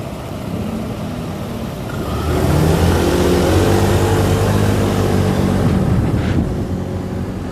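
A car on a fast commute to work, its engine rising in pitch as it accelerates and then holding a loud, steady drone from inside the cabin.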